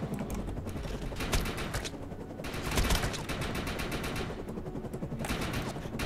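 Video game gun fired in rapid controlled bursts, several distinct clusters of sharp cracks separated by short pauses, fairly quiet and steady in level with no talking.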